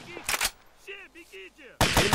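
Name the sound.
enemy gunfire in a video game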